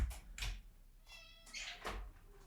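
Two or three short meows from a house cat outside a shut door, close by and fairly loud, with a soft door thud among them.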